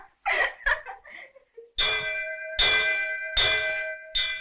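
A stranger sounds a bell in an old Jahangir-era bell tower, giving four loud, ringing strikes spaced under a second apart, each tone lingering and decaying; a brief stretch of soft laughter comes before the first strike.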